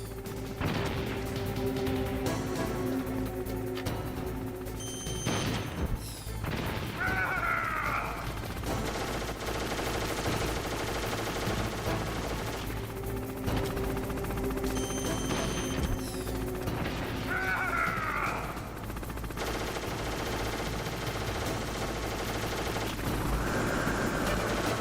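Gunfire in the Metal Gear Solid video game comes in repeated bursts of shots and clattering mechanical impacts over a constant game background, with a similar sequence sounding twice across the stretch.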